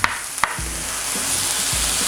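Beef steak sears in a hot pan with a steady, loud sizzle, broken by a few sharp clacks and scrapes as the meat is turned over.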